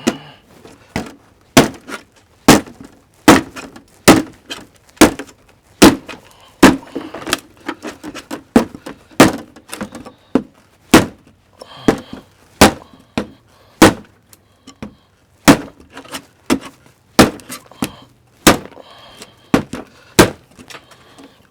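A DayOne Gear CUMA Protector knife stabbing repeatedly into a hard target, a steady series of loud, sharp close thunks about one per second, some doubled, with no talk.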